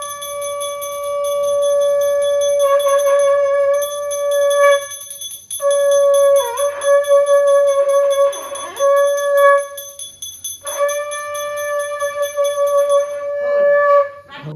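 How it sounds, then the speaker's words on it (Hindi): A conch shell, or shankh, is blown by a man during a Satyanarayan aarti puja, giving several long, loud, steady horn-like blasts with wavering bends at their ends and short gaps between them. "हस्बैंड ने बहुत अच्छा शंख बजाते हैं"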